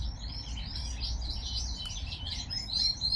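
Lizard canaries sing together in an indoor bird room, a steady stream of bright overlapping chirps and warbles over a low background rumble, with no voices.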